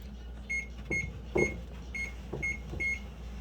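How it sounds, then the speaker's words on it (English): An oven timer chirps through a quick series of about six short, high electronic beeps as it is keyed to 13 minutes for a 350-degree bake, with soft handling noise between presses. "I'm going to set the timer for roughly about 13 minutes"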